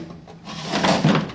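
A drawer slides out of a tool chest with a smooth, rumbling scrape that swells toward the end, close by, with no talking.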